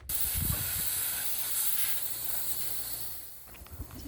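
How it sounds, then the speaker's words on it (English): Air hissing out of a tire as it is deflated, a steady close, loud hiss that runs nearly the whole time and then tapers near the end. "I was actively taking air out of the tire"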